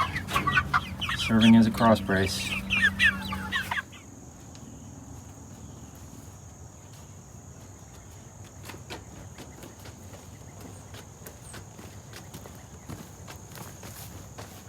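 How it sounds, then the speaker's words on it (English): A chicken clucks loudly and rapidly near the start, with someone speaking briefly over it, then the scene falls to a quiet outdoor background of faint insect buzz and soft scattered noises. "Those of you that have watched the channel for a little while may be familiar with Lucky the chicken."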